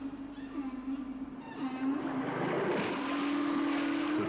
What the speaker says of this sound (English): These men are playing the mating call of a female whale on Sony ferrochrome cassette tape